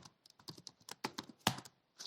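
Computer keyboard keys click in a quick, irregular burst of close, crisp taps, with a louder press near the middle and a few more strokes at the end.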